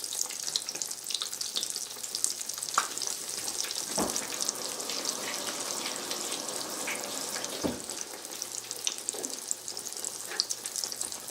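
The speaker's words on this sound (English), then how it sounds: "And you just stick it in the frying oil." Breaded eggplant slices, coated in egg wash, flour and Italian breadcrumbs, fry in hot oil with a steady crackling sizzle and occasional louder pops and clinks, close and continuous with no talk.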